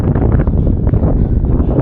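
Strong wind buffets the microphone at the Ad-Dakhla football stadium in Youssoufia during a match, a loud, steady rumbling roar with no voices.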